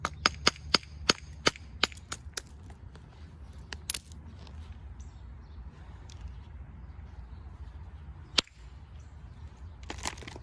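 Flint knapping green chert from middle New York with a large bopper: a fast run of sharp, hard stone-on-stone clicks, then a lone crack after a pause and a few more strikes at the end, over a low steady background.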